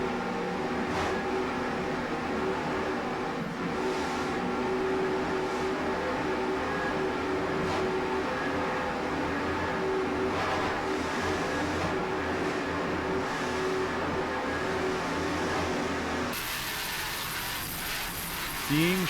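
A 2004 36-foot Skater racing powerboat of Team Showtime runs hard in a grand prix race, its engines a steady, heavy drone throughout with a faint voice over it, ending in a sudden shift of tone.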